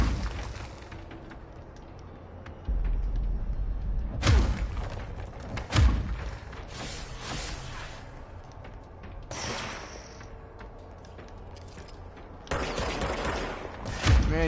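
Gunfire in a video game: several heavy, booming shots fire one at a time at irregular intervals. A louder cluster comes near the end over a steady background rumble.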